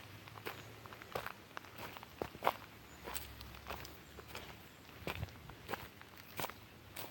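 Footsteps crunch over a pile of natural debris like grass and leaves in a steady walking rhythm, faint and somewhat distant, with soft rustles between steps and no talk.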